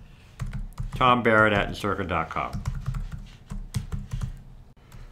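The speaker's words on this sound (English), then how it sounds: "And so I'm typing in Almond as the first name, Joy as the second." Typing on a computer keyboard while filling in a social network sign-up form, light clustered key clicks heard mostly under a person talking, with a few clearer taps alone near the end.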